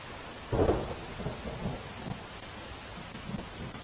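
Steady monsoon rain falls while a low roll of thunder rumbles early on, then fades into softer distant rumbles under the continuous patter, in Navsari, Gujarat.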